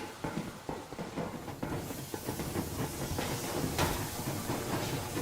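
The armoured steam train Aurora from the game Metro Exodus rolls forward, steam hissing over a dense rumble and the clatter of wheels on rails, steady and close with no voices.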